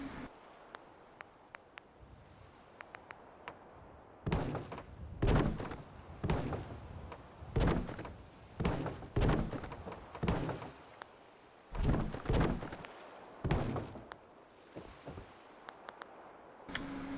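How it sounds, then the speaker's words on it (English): Floor pieces snap into place while building a settlement in Fallout 4, a run of about ten sharp thunks and clacks at an irregular, steady pace, each with a short tail, heard alone after soft ticking. "I'm going to put some floors in the middle here just so I don't fall off."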